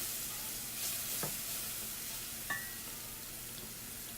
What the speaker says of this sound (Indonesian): Kita tumis sampai harum.